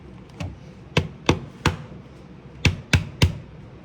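An egg tapped firmly on the edge of a kitchen counter while making scrambled eggs: seven sharp, close knocks in two uneven groups, each short and crisp.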